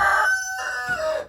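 Chickens crowing and clucking at close range on a small meat-chicken farm, several rising, drawn-out calls overlapping one another across a short burst with no talk.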